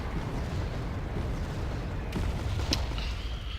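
Mortar barrage in Wargame: AirLand Battle, heard as a dense, continuous low rumble of distant explosions with a couple of sharper blasts near the end.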